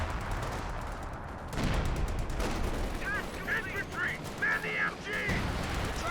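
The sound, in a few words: machine gun fire in Company of Heroes 2 video game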